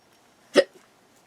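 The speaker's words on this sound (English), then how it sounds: "I got the hiccups." A single sharp hiccup comes close up, a brief burst in an otherwise quiet room.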